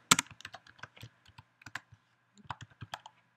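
Code being typed on a computer keyboard in Unity: quick bursts of crisp key clicks, close and dry, with a short pause midway before another flurry of taps, and no voices.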